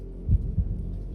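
Two soft, low heartbeat thumps in quick succession, close and muffled over a dull hum, with no voices.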